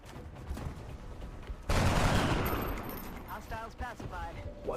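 A burst of soldiers' gunfire in the XCOM Long War video game, a sudden loud volley that rolls on and fades, with a voice talking over the later part.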